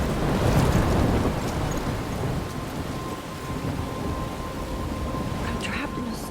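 A heavy thunderstorm rages in the video game Life is Strange, with dense steady rain and a deep rumble of thunder, loud and close, the downpour hissing continuously throughout.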